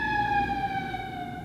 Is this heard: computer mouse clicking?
no